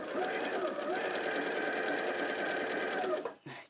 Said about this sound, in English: Needle down, turn around